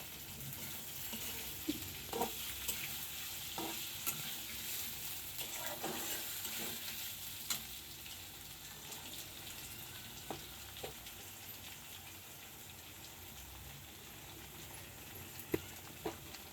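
Sweet potato and onion frying in a pan with a ginger, garlic and cumin paste, a continuous soft sizzle broken by occasional stirring clinks and scrapes, fairly close, with no talking.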